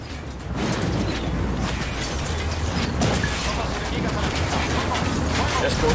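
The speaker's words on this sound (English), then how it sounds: "Opening fire on these fuckers." Sustained volley of video game gunfire, a dense continuous barrage of rapid shots at steady loudness with crackling bursts throughout.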